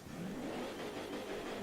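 A car engine in the Driveclub racing game hums at a steady mid-pitch while reversing, a continuous moderately loud drone with slight wavering and no voices.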